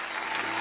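A church congregation breaks into brief, dense applause to acclaim the Lord, a steady clapping that fills the room with no voices heard.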